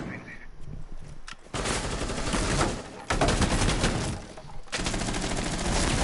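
Rapid automatic gunfire during a Rainbow Six-style tactical shooter match on a Caveira, with bursts of dense, loud, continuous shots separated by brief pauses, sounding close.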